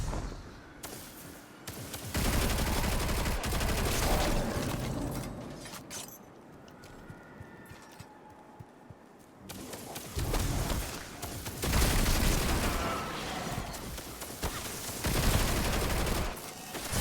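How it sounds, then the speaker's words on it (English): Gunfire in the sci-fi shooter Destiny 2 comes in loud, dense bursts of rapid shots, close and harsh, broken by a quieter lull in the middle before heavy firing resumes and continues to the end. "What the hell is shooting? Who's shooting?"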